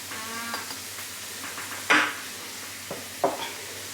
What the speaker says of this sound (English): To that pan I'm going to add my garlic, chilli and herbs mixture.